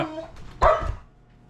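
Maggie the dog lets out a sharp, close bark at rabbits outdoors, preceded by softer yips and a quieter trailing sound.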